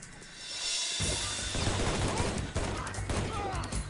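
Dense, rapid gunfire erupts after a brief quiet lead-in in the video game Shadow Ops: Red Mercury, a loud continuous volley of shots and impacts that keeps going to the end.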